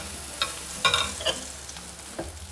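Freshly fried chebakia pastry, well drained, plunged into honey, giving a few short crackling sizzle bursts over a soft, steady hiss, close and fairly quiet.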